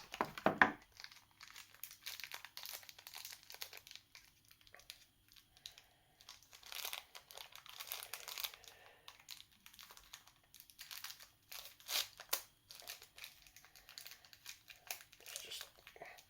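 Sellotaped plastic toy sword being ripped and worked out of its packaging: irregular bursts of crinkling plastic and tearing tape, close and moderately quiet, with no talking.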